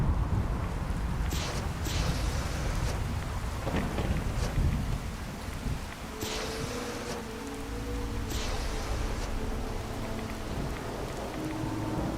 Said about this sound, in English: See if I can get rid of this fucking Rad Storm shit.